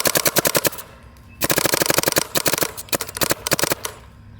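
A mechanical Shocker AMP paintball marker with a CC frame fires in rapid bursts, sharp close snapping shots in quick strings separated by short pauses.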